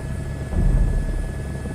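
A helicopter in a VR flight simulator settles in to land, its steady rotor thrum and engine drone swelling briefly and then easing back over a short stretch, with no talk.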